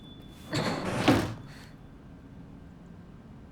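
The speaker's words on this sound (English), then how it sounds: "I think someone closed the door or window." In the video game Silent Hill f, a door or window slides and bangs shut, a single scraping, rattling close lasting about a second, followed by a quiet tonal hum.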